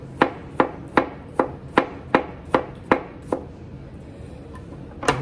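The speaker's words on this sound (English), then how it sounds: "Then your radish. Let's take the end off. Just chop them up." Radishes chopped on a board for a Cajun chicken salad, about nine crisp knife strikes in a steady rhythm, then a pause before one last chop, close and clear with no talk.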